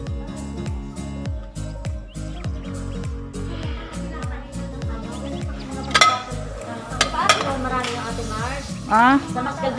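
Dishes and plates clink and clatter in repeated bright knocks over steady background music, with a few louder clatters near the end.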